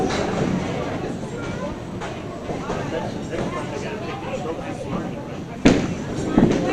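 Candlepin bowling ball rolling down a lane at a kids' tournament semifinal, a steady rumbling roll under crowd noise and commentary, ending in a sharp clatter of pins near the end.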